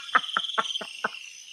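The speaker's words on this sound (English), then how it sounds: "is that crickets?" Crickets chirp in five evenly spaced pulses over a steady high insect drone, close and clear, with no voices.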